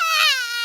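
A cartoon baby's cry in Peppa Pig, a single short wailing sob, close and loud, with a slightly falling pitch.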